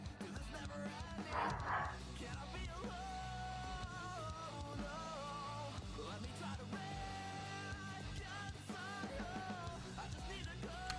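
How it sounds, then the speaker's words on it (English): A 16-year-old Yorkie Chihuahua mix yelps and whimpers in short high bursts while being attacked by another dog, faint and partly buried under ongoing talk and background noise. "Hold on, there's a dog being attacked."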